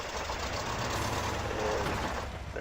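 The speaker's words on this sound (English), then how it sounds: "Oh, the engine was on." Truck engine in Spintires running steadily at a low idle, a continuous rumbling drone that stays level and fairly loud with no talk over it.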